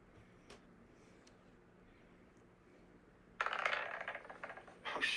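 Dice tumbling and clattering on a hard surface during a tabletop RPG session: a quiet lead-in, then a rattling burst of small plastic impacts that settles and briefly flares again near the end.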